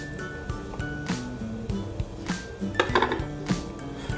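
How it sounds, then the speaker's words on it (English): A knife works through shortbread dough in a mixing bowl, giving repeated close clinks and scrapes of metal against the bowl in an uneven rhythm, with no talking. "we're going to take a knife to the dough in the mixing bowl and separate out half of it"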